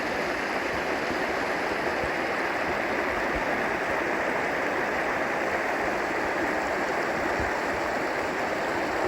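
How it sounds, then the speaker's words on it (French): Cool mountain stream water flowing near a campsite in La Caldera de Taburiente on La Palma, a steady, dense rushing and burbling that continues unbroken and fills the whole space. "il y a de l'eau bien fraîche qui coule de la montagne qui va nous faire du bien"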